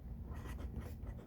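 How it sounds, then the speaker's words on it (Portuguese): A teacher writes on a classroom board in a quick, continuous scratchy scrawl, fairly close and steady with small breaks between strokes. "Deixa eu escrever aqui."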